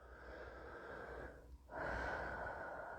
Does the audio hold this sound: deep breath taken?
yes